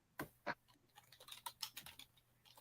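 Quick, light keystrokes on a computer keyboard, close and fairly quiet, with a couple of louder taps at the start and then an uneven run of clicks.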